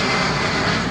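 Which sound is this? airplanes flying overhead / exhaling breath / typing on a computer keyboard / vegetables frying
airplanes flying overhead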